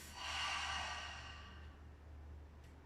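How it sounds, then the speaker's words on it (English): A single deep breath from a yoga class: a breathy exhale through the mouth swells quickly and then fades slowly into quiet room tone, close and alone with no talking. "inhaling through your nose, exhale through your mouth"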